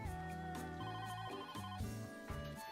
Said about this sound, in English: Their banter was interrupted by the delivery phone.